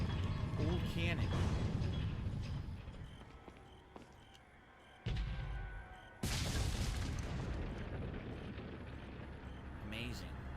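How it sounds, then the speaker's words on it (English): An old cannon fires in Resident Evil 4, with booming blasts and rumbling aftershock over loud game noise, someone talking over parts of it. "Old cannon."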